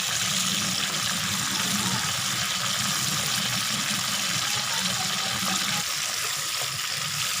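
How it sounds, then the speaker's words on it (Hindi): Chicken with only salt sizzles steadily in a hot pan while frying for a white karahi, a dense, constant hiss held at an even, fairly loud level throughout. "हमने सिर्फ नमक डाला है और नमक डाल के हम इसको फ्राई करेंगे।"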